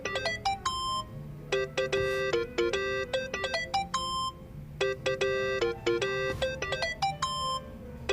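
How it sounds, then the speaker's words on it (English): Mobile phone ringing in the video game Yakuza: Like a Dragon, a bright repeating melodic ringtone in short phrases that loops several times, clear and close, over a low background hum with no speech. "That's your phone, man."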